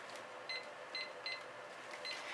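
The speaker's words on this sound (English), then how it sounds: "Pardon my timer for a moment." A kitchen timer in a fluid-art painting studio sends out short electronic beeps, about four spaced chirps, faint against a soft background hum.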